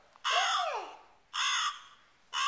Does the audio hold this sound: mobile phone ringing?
no